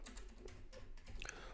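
Computer keyboard keys tapped a few times at close range in a quiet room, a short run of light clicks with a brief pause between.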